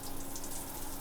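Water pours steadily from a ceiling-mounted rain shower head inside a converted school bus home, a continuous broadband hiss of falling water with no pauses.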